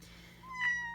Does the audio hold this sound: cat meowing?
yes